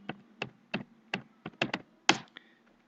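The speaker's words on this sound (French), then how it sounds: "je vais taper le mot de passe" A password is tapped out on a computer keyboard: about eight crisp, separate keystrokes at an uneven pace, close and clear in a quiet room, with a final firmer press.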